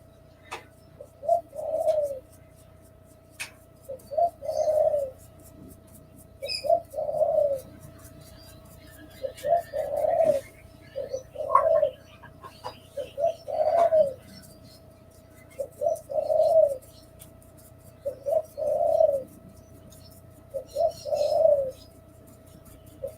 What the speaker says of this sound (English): Got some lovely pigeons in the background today.